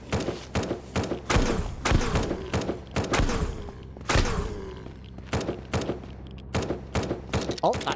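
An automated turret in the zombie survival game SurrounDead fires bursts of sharp gunshots, irregular clusters of loud cracks and thuds spread across the moment, with a brief voice among them.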